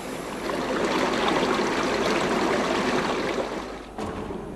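Water runs from the bottom of a resin distillery vessel out through a tube, making a steady, loud, rushing flow that dips briefly near the end.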